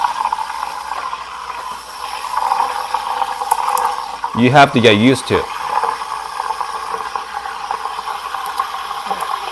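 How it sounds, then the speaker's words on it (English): A Rancilio Silvia espresso machine's steam wand hisses steadily while steaming milk, a constant broadband roar with a brief louder gurgling burst in the middle, as someone speaks over it. "The great thing about the Rancilio Silvia, the steaming powers are pretty impressive."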